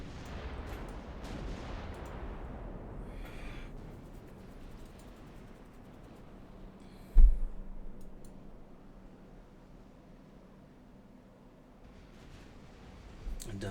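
Naval artillery fire from warships in Ultimate Admiral Dreadnoughts, a distant rumbling boom with one sharp heavy blast standing out over a low background roar.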